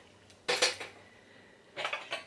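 Thrifted blue and white dishes clink and clatter as they are handled, two short bursts of ceramic knocks with quiet between them, close by and with no talking.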